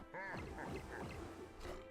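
Duck quacks from the Howard card in Marvel Snap, a quick series of nasal quacks, clear and fairly near, with no talking.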